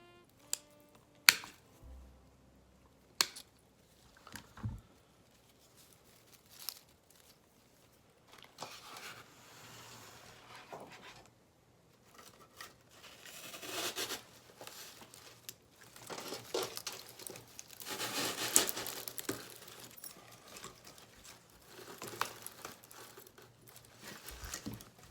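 Scissors snipping pieces off material for a snowman-themed floral arrangement, with scattered crisp cuts, crinkling and rustling handling sounds at close range, growing busier toward the end.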